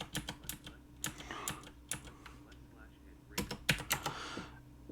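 Rapid clattering keystrokes on a computer keyboard as HTML code is entered, bursts of clicks with short pauses, close and clear, while a voice talks over parts of the typing.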